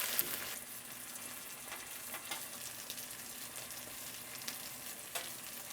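MRE breakfast food fries and browns in a pan with a continuous quiet sizzle, soft crackles and occasional pops, no talking.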